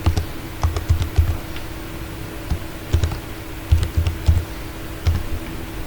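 Keys clatter on a computer keyboard as a password is typed, in short irregular bursts of close, crisp clicks with brief pauses between.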